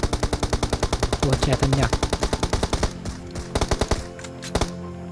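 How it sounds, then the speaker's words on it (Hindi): Rapid automatic gunfire in the PUBG video game, a dense, steady rattle of loud shots that thins into scattered bursts, with a voice speaking briefly over it. "फिर से फायर कर रहे हैं,"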